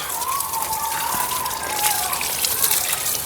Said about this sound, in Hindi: मैं इसमें अच्छी तरीके से पूरा पानी जो है वो डाल दूंगी